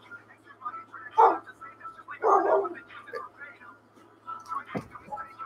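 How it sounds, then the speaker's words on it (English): An indoor pet dog named Bella barks in a few short bursts close by, with a voice talking over the barks and a low steady hum in the background. "My dog is barking."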